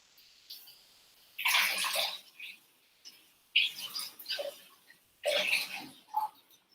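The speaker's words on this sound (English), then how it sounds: "I've just got to run this under the warm water to get the ice out" Warm tap water runs over an ice tray in a home kitchen, coming in bursts of splashing gush separated by short quiet pauses, fairly close and clear.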